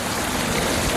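Water rushing into a hydroelectric dam intake in a game, a dense continuous gushing hiss like heavy rain or a stream, loud and unbroken for the short moment.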